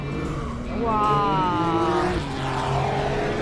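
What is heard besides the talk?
race car drifting on track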